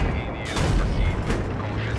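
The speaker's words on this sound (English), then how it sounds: "Getting shot at from the right side" Gunfire in the Battlefield 3 video game on PC, heard from an M1 Abrams tank, comes as a dense, loud burst of shots and booms over a steady low rumble.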